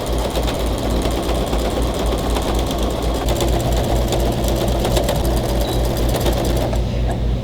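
A sewing machine stitches fabric strips for a Seminole-style patchwork runner, running with a fast, steady mechanical rattle and hum that continues throughout, loud and close.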